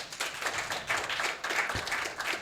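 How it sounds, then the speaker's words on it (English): An audience claps in uneven bursts, moderately loud and fairly close, with no talking. "We're clapping for homelessness"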